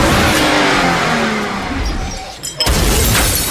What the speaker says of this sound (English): he seizes a car and rams it into others, using the wreckage as cover to eliminate his pursuers